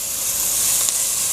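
Mince with coriander and cumin seeds sizzles in a hot pan as a steady, close-up hiss of frying with faint crackles, alone and without talk.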